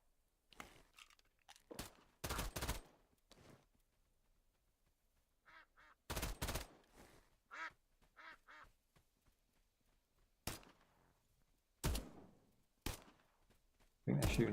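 Gunshots in the Duckov survival shooter game come as a handful of sharp, loud broadband cracks spread irregularly across the stretch, with quieter game sounds between them.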